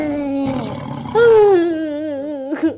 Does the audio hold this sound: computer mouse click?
no